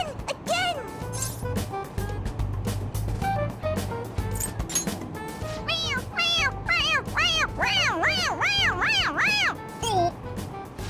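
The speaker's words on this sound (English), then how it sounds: "It meows when you press on its head." A toy cat in Persona 5 Royal lets out a string of rising-and-falling electronic meows, growing louder and repeating rapidly toward the end, over game background music and ambient noise.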